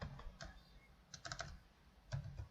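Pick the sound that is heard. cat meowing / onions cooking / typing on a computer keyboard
typing on a computer keyboard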